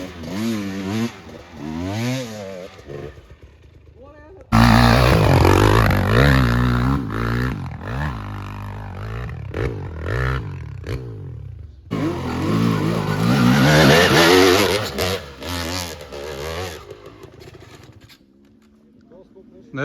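Dirt motorcycle climbing a rough trail, its engine revving hard in loud, uneven bursts with stuttering throttle blips between climbs, close to the microphone.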